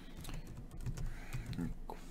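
Typing on an unfamiliar computer keyboard, a run of soft clicky keystrokes in an irregular rhythm, close and moderately loud, with a voice speaking over parts of it.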